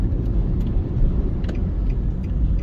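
A car drives along a road in Kingston, Jamaica, with a steady, close rumble of engine and road noise that carries through without a break and with no voices.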